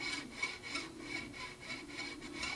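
Bow drawn smoothly across a violin D string in steady repeated strokes, a soft, airy, rasping tone that swells and fades with each stroke, quiet and close.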